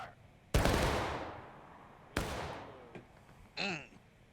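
Musket volleys crack in the War of Rights battle game: two loud ragged blasts, each trailing off in a long echoing roll, then a smaller pop and a brief shouted voice.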